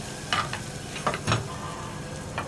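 A spiced chickpea and mixed vegetable curry is stirred in a pan, with soft scraping strokes and a gentle sizzle in a few short bursts.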